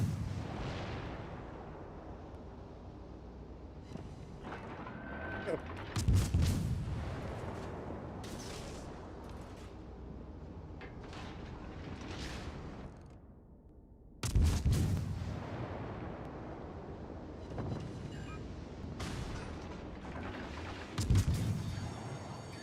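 Gunfire in a shooter video game, with a few heavy booming blasts standing out over a dense, continuous rumble of battle noise; no one speaks.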